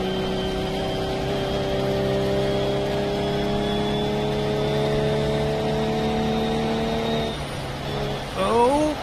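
A car engine holds a loud steady drone, then the pitch drops and climbs again with a brief sliding whine as the car power-slides in a racing video game; no voices.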